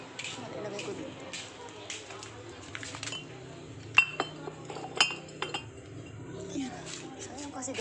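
Empty glass bottles clink against each other as someone picks them up and sets them down, giving a few sharp, close clinks among softer knocks while someone speaks.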